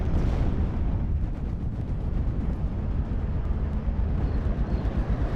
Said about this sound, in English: Though that M10 is going to take a little bit of mortar fire.